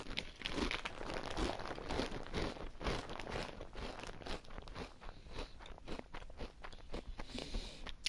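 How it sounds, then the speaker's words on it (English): Close crunching and crinkling from a bag of chips being handled and eaten, a dense run of crisp crackles and rustles lasting throughout with no voices. "Sorry for the crunching."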